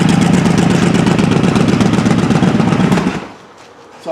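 Honda Shadow ACE 1100 motorcycle, 1995-1996, idling after a carburetor rebuild and sync tuning: a loud, steady, close engine rumble that cuts off abruptly near the end, leaving quiet.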